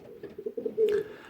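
Pigeons coo in a loft, a short run of soft, low, throaty coos pulsing close by with a slightly louder burst near the end, no voices over them.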